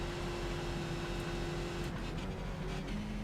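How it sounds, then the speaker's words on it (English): A Skip Barber race car drifts in iRacing with a constant loud engine drone that holds a steady pitch. Faint tyre squeal and shifting pitch come through near the end. "Ooh, drifting!"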